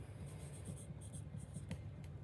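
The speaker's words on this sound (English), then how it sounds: "you can just write your name on the inside" A pen scratching out a name on the inside of a paper mache bowl, a faint, close scratchy writing sound with a few quick strokes.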